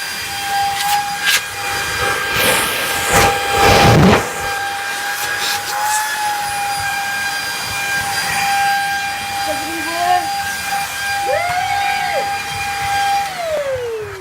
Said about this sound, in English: Hoovering up.